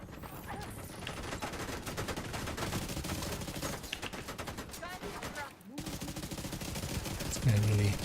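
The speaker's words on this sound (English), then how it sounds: "some of those airbursts hitting behind you, of course, are very dangerous" Video game combat with dense, continuous gunfire and scattered airburst explosions, some bursting behind the player, with a heavier boom near the end and voices talking over the din.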